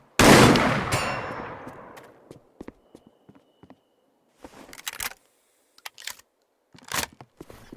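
A single sharp, loud shot from a TAS 34 gun at a Dead Matter shooting range, ringing out and decaying over about a second, followed by sparse faint clicks and scattered soft knocks.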